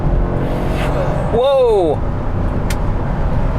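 A 1993 Cadillac Allante at full throttle, its engine drone steady and loud from inside the cabin, with a rising whine swelling midway and a person exclaiming over it.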